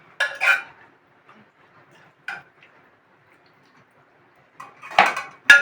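Sparse clinks and clatters of dishes and utensils as home-cooked food is served into plates, with a cluster at the start, a single knock midway and a busier burst at the end, fairly close, with no talk.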